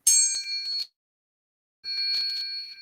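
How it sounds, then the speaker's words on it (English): A chime is struck twice during a spoken prayer, each strike ringing bright and metallic, close and clear, then fading, with a pause of silence between the two. "I'm going to just chime here again"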